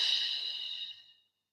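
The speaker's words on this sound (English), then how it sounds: "Breathe a lot." A single long, deep exhale during a flowing yoga sequence, breathy and airy, close to the ear, gradually fading out to silence.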